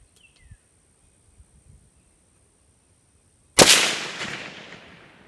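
A single sharp report from a Rossi RS22M .22 rifle fitted with a night vision holographic scope, loud and close, with a decaying tail after a few seconds of near silence.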